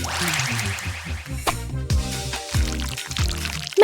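Water pours continuously and fairly loudly, splashing and gurgling with shifting pitch, during a paper-doll hair-washing craft.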